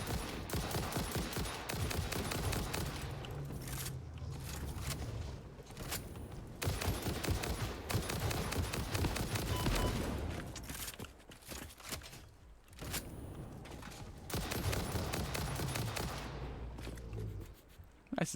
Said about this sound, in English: Trying to get them to shoot each other more.